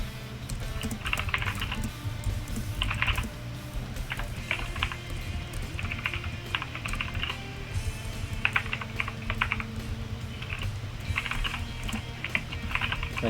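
Typing on a computer keyboard: rapid bursts of crisp key clicks in clusters separated by short pauses, close and clear above a low steady background hum.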